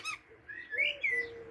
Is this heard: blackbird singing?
yes